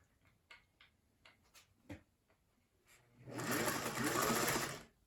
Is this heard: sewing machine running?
yes